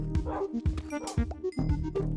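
Tamed dogs in Minecraft barking in quick repeated yaps, several short bursts in a row, close and fairly loud with a game-like clipped quality.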